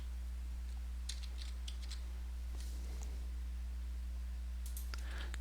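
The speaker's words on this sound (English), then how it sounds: "Click, click, click." Quick mouse clicks while someone plays the Minecraft TerraFirmaCraft mod, several sharp clicks in short irregular bursts over a steady low hum, with no talk.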